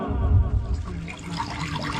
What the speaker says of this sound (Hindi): यहाँ गड़गड़ की आवाज कहां से आ रही है? संभव है कोई जंगली जानवर पानी पी रहा होगा